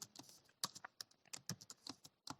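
Rapid typing on a computer keyboard, with irregular clusters of close, crisp key clicks running throughout at a moderate level, no voices present.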